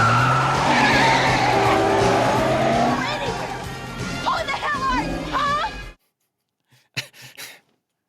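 In a car chase from the action film Commando, a car's tires screech in a long, loud skid over roaring engine noise, then cut abruptly to silence followed by a couple of faint, brief sounds.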